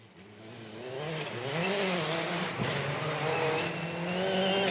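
A rally car at full throttle through a spectator corner on the Manawa stage of Rally New Zealand, engine revving and shifting pitch as it closes in and grows louder.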